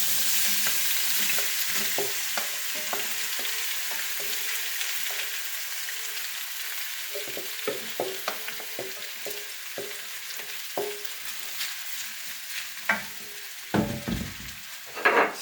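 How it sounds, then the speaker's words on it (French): Potatoes fry in hot oil with a continuous low sizzle, broken by scattered clicks and scrapes of stirring that grow louder and more frequent toward the end, with no voices. "On va mettre dans de l'huile chaude. Là, on met les pommes de terre."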